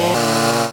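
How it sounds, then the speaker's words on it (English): Chainsaw roaring steadily at close range while a storm-blocked road is cleared, a loud sustained engine drone with a slight pitch shift early on, cutting off abruptly at the end. "And the chainsaws started roaring."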